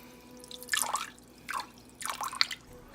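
Water trickles and drips in a few short splashy bursts as it is poured into a crock pot holding corned beef and cabbage, close and fairly soft with no voices.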